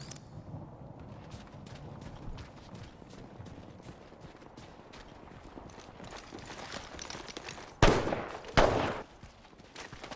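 Rapid gunfire in a video game, a steady rattle of shots through a busy mix, with two loud close bursts near the end.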